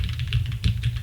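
Keys clack in quick succession on a custom mechanical keyboard, a dense run of close, crisp strokes with a deep bouncy thock underneath, loud and alone without talk.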